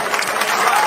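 A bowling crowd at the PBA Indiana Classic applauds and cheers Benji Martinez's late surge, a dense, steady wash of clapping throughout.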